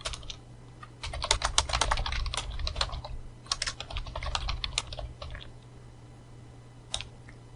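Someone typing Python code on a computer keyboard, close quick bursts of key clicks in uneven runs with short pauses between them, over a faint steady hum.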